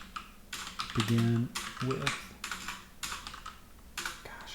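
Rapid clicking of keys on a computer keyboard, typed in quick bursts with short pauses, while a voice speaks briefly over it.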